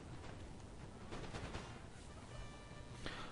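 Musket volleys crackle from a distant battlefield in the video game Napoleon: Total War, dense and continuous, with scattered louder shots over a steady rumble.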